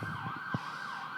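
A wailing ambulance siren sweeps up and down steadily, heard at moderate distance under a faint low rumble, with a brief thump partway through and no talk.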